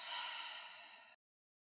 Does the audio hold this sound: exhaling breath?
yes